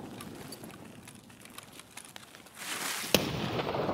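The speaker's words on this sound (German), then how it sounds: "Ich werfe eine Granate." Grenade blast in the video game Escape From Tarkov, a sudden rushing burst of noise followed by a sharp crack and lingering rumble after quieter game ambience.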